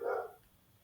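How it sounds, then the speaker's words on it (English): A single short dog bark sounds at the start, fairly faint and clipped, followed by quiet room tone. "I swear that dog has not barked all day."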